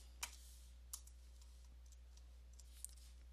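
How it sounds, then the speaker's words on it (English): Password typed on a computer keyboard in a quiet room, three sparse, faint clicks of keys spaced apart over a steady low hum. "I'm just gonna type my password"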